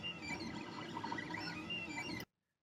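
Small 3D printer running mid-print with its part-cooling fan on, a steady whirring hum with shifting motor tones that cuts off abruptly to silence near the end.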